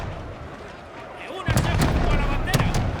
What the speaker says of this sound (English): There you go, shots being fired whilst in melee.